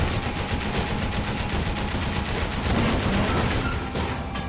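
Heavy gunfire from a big gun in the video game Bayonetta, a dense continuous barrage of rapid shots at steady loudness, alone without talk.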